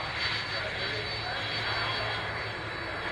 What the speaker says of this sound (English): I used to love these aircraft, the wonderful TriStar.